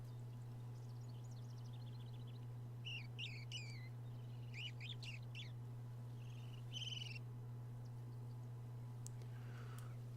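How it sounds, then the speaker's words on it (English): Bird calls in the Alaska setting of the fishing game Fishing Planet: several bursts of shrill chirping and warbling calls at moderate distance over a steady low hum, with gaps between phrases and no talk. "I hate that bird. That bird is annoying."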